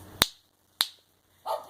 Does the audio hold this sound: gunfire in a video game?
no